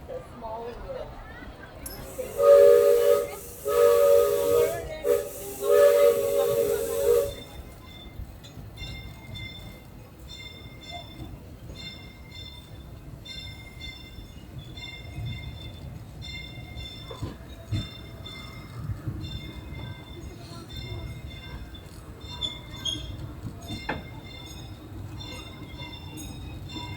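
Disneyland Railroad steam train rolling along its track, a steady low rumble of wheels and carriages with faint clatter, under a recorded narration and brief music early on.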